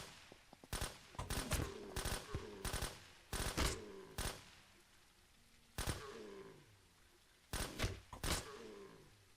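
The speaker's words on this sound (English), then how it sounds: "switching back over here to get it into assault rifle mode" Automatic assault rifle fire in the game SurrounDead: repeated bursts of rapid sharp shots in clusters separated by short pauses, loud and close, with a brief mechanical clatter between bursts.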